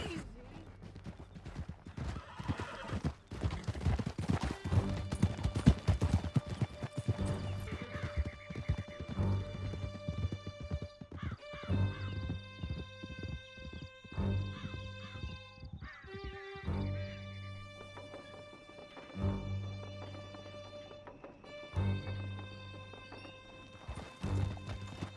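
Horse hooves clip-clopping at a gallop in the open-world western game Red Dead Redemption 2, steady rhythmic beats over music, with occasional whinnies and snorts and speech in places.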